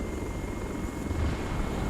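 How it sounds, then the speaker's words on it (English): Black Hawk helicopter in the video game ARMA 3, a steady low rotor thrum with engine drone, continuous and fairly loud throughout without any talk. "Oh, there's a Black Hawk just crashed."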